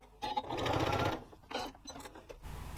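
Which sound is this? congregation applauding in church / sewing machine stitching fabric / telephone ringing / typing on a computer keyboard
sewing machine stitching fabric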